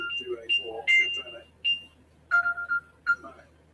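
A Find My Phone alert plays as short, bright electronic tone bursts in an uneven pattern, mixed with nearby talking at a football watchalong.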